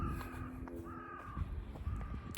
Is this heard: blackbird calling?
yes